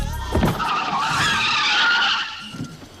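Car tires skidding and squealing in an accident scene for an insurance advert, a sharp loud screech rising after a brief thump and sustained for about two seconds before fading.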